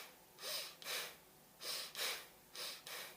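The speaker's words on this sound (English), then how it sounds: "I'll be breathing in very short breaths" Three pairs of short, shallow, breathy inhales and exhales from a person demonstrating anxious chest breathing, close and fairly quiet, evenly spaced with brief pauses between them.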